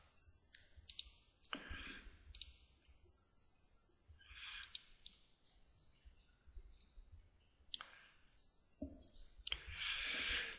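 Computer mouse clicking during image editing, a series of sharp, close, irregular clicks with quiet gaps between them and a short rustle at the end.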